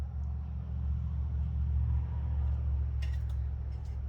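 Mercury 50hp outboard motor spun over, a steady low mechanical rumble that holds for several seconds at moderate volume, with a few brief rattling clicks near the end.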